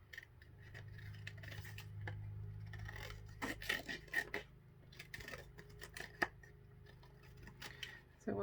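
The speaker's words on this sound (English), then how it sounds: "now I'm going to start cutting out that circle." Scissors snip through paper while cutting out a red circle for a scrapbook layout, a run of small irregular crisp clicks and scrapes, close and quiet, with faint rustling between cuts.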